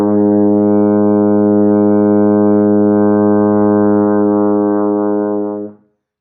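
A single sustained A flat note on a baritone horn, steady and loud for about five and a half seconds before stopping cleanly.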